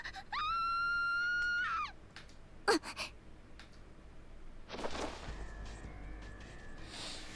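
A girl gives one high, sustained scream lasting over a second, followed by a thump, scuffling and breathy gasps, with a rough rushing commotion afterward.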